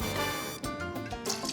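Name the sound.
pouring Herradura tequila into a cocktail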